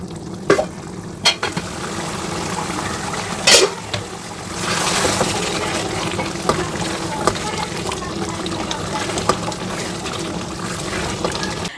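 Chicken liver simmering and frying in tomato puree, with a steady sizzle, wet stirring and a few sharp clinks of a spoon against the pan. Faint voices sit in the background.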